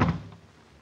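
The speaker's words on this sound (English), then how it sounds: "And close the door" A door swings shut with a single close, dull thunk, then quickly fades into a quiet room.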